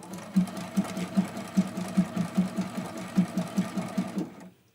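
A sewing machine runs a few quick zigzag stitches on a small quilting test piece, a close, rhythmic mechanical thumping at an even pace that stops abruptly at the end.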